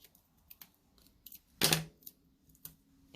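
Scissors slicing through cardstock for handmade greeting cards give one loud, close crunching cut amid scattered light snips and taps, with no voice present.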